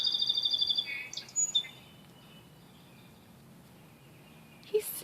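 A little finch sings near a greenhouse rock bed, a rapid run of bright repeated chirps opening the phrase, then scattered notes and a final short burst after a quiet pause.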